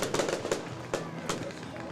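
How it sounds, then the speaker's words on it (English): Fireworks at the south end of a high school football stadium go off in sharp, distant bangs and crackles, several bursts in a couple of seconds, with crowd noise and talk around them. "an unnecessary amount of fireworks going off down at the south end of the stadium"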